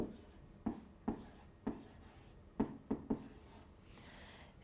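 A stylus writing on a Smart Board interactive whiteboard, making a series of sharp close taps and short scratchy strokes at uneven intervals, with no talk over them.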